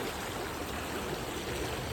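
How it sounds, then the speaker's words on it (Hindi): A stream in a nature park in Dehradun gives a loud, steady wash of flowing, rushing water that fills the whole moment without a break. "और पानी देखो भाई"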